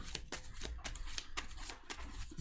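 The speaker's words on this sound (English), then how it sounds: "I'm going to shuffle." Encounter cards for the Marvel Champions card game are shuffled close up in a quick series of crisp riffles and snaps, soft and steady, with no talking.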